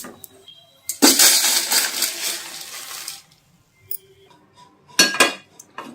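Roasted flax seeds tipped from a pan onto a plate, a loud rattling, clinking rush of small seeds lasting about two seconds, followed by a few fainter scrapes and a final short clatter.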